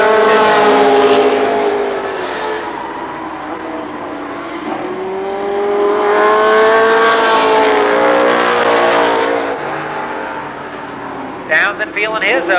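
Race cars in an 8-lap heat race at Columbus Motor Speedway, engines roaring loudly and rising and falling as they circle the track, with pitch sweeps as cars pass.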